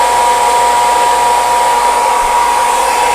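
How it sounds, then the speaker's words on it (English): Heat gun running on its low setting, a steady loud blowing roar with a faint whine, continuous and unchanging throughout with no talking. "So next thing is heat gun. It's gonna be a little loud here, but you just want to go and put it on low."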